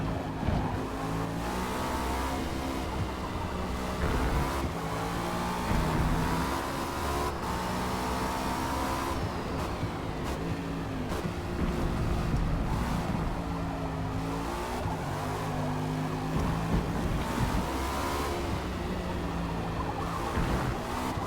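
A Cadillac V-Series.R race car lapping Spa in the video game Forza Motorsport: a loud, continuous engine howl rising through gear shifts and falling on braking, with bursts of tire squeal, heard alone.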